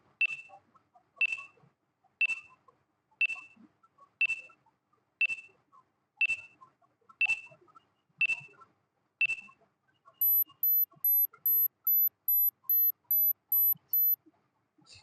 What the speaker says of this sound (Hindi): टाइमर स्टार्ट होता है अब।